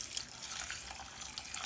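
Water runs steadily into a pot on the stove for a nabeez date-and-almond drink with poppy seeds, a brief, fairly faint stream with no voices.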